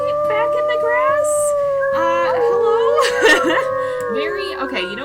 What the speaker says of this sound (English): Maybe we give a little howl